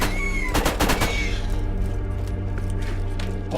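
Automated turrets fire in Borderlands, a steady rattle of rapid gunshots with a few sharper early bursts over a dense, continuous in-game background, loud and close throughout.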